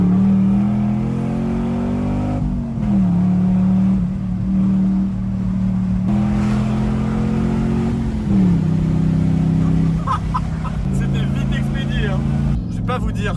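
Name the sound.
Chevrolet Camaro V8 engine accelerating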